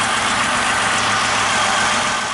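A 2002 Chevrolet Malibu engine idles steadily and close by, a constant broadband hum with a low rumble that holds throughout, and no voices over it.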